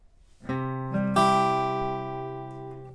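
Acoustic guitar strings struck in quick succession, a couple of picked notes then a bright upstroke across the high E and B strings, ringing out and slowly decaying. No voices.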